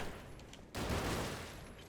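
Ranged enemies firing three-shot bursts in the action game The Golden Lie, a steady dense volley of gunfire that jumps louder partway through and keeps rattling to the end.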